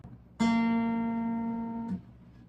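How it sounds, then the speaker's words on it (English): On an acoustic guitar, the G string is plucked and rings out clearly for about a second and a half, then a second softer pluck follows near the end. It is close-miked, and no voice is heard. "Now we pluck the G string twice"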